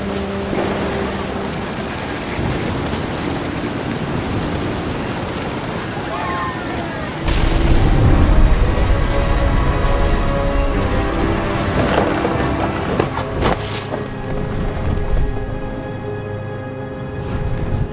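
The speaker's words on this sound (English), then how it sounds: "The thunder sounded much too close and full of angry power." Rain and rumbling thunder in the game What Remains of Edith Finch, a steady wash of rainfall with deep rolling swells and a louder crack partway through, sustained throughout with faint other sounds mixed in.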